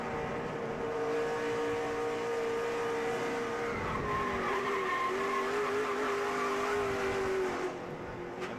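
Stacy Compton's NASCAR truck spins at Kentucky Speedway, its engine droning with feathered throttle while the tires squeal and skid in a long, sustained wail, heard from a distance without voices.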